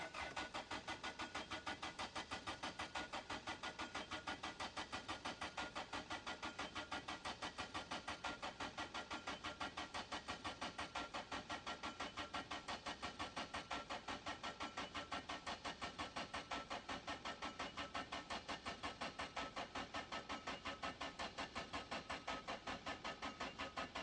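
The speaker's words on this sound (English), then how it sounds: "I'm just letting the engine charge" A vehicle engine charging in a modded video game fitted with pistons: a faint, steady idling drone with rapid, even pulsing that runs unbroken for about twenty-four seconds, with no speech.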